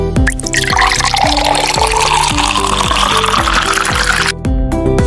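Liquor glugs from a bottle into a shot glass, a steady continuous pour with rhythmic gurgling pulses that stops abruptly near the end, close and loud.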